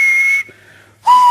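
The steam engine James gives two loud, steady whistle blasts separated by a short gap. The first blast is longer and higher and the second sits lower, and both are close and clear with no speech.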